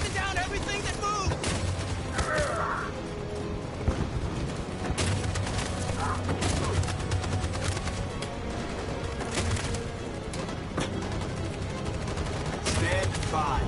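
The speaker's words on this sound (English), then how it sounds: "That machine gun is taking down everything that moves!" Sustained machine gun fire in the PS4 video game Detroit Become Human: dense, loud, continuous bursts of gunfire with blasts mixed in, filling the whole stretch, with voices talking over it.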